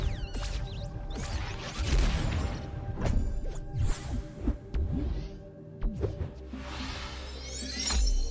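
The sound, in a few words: glass smashing in the video game Tunic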